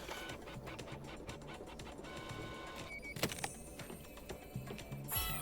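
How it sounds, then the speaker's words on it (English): A printer in the spy video game Deceive Inc runs with a quiet mechanical whir and repeated shuttling clicks, faint and steady under game ambience, with a few sharper clacks near the end. "This printer's really close"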